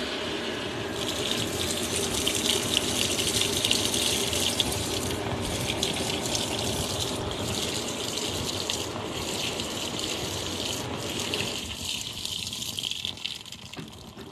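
Water gushes steadily into a washing machine running extra rinse cycles, a loud continuous rushing flow that holds for most of the stretch, then drops to a softer trickle near the end.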